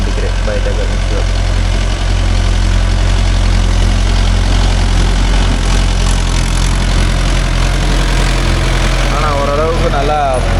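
A Mahindra Yuvo Tech Plus 585 4WD tractor engine runs loud and close with a deep, steady rumble in a small field, with a voice heard faintly over it.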